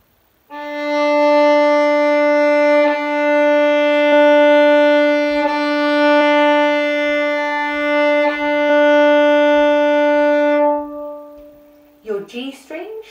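A sustained bowed tuning note on a violin's open D string rings steadily for about ten seconds with strong, even overtones, then stops, followed by a brief voice.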